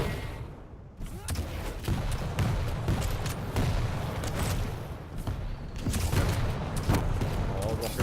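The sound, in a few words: rocket launcher fire in a video game (Quake Champions duel)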